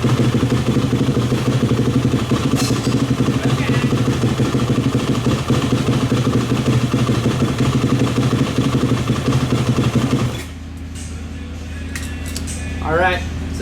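A Yamaha YZ250F dirt bike engine idles after a carburetor clean, with a loud, uneven rapid putter for about ten seconds before it shuts off, leaving quieter background sounds and a faint voice.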